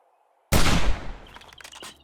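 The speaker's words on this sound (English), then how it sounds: "Always just use my gun with the screamer." Gunfire aimed at a screamer zombie in the video game 7 Days To Die: one loud, abrupt blast after silence, its roar fading over a second into scattered fainter thuds and clatter.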